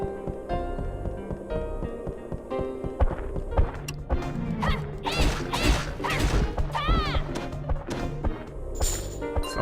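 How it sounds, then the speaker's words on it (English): Heavy, clattering footsteps of a character in the video game Dark Cloud, a run of loud thuds and knocks over a layered game music bed, with a sharp warbling sound effect partway through. "Somebody has got some loud footsteps"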